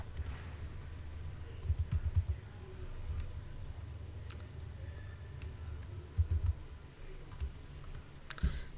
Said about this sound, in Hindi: गूगल में टाइप करना है पावर बीआई डैशबोर्ड डाउनलोड